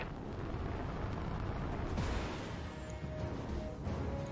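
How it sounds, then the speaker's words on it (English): Jump jets firing on a mech in the BattleTech video game: a loud, sustained roaring thrust with rumbling blasts and a sharper burst midway, continuous throughout. "Engaging jump jets"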